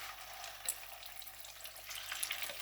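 Chicken pakoda pieces frying in hot oil: a steady, soft hissing sizzle with small crackles and a few brighter pops as pieces are added one by one, heard up close and fairly quiet.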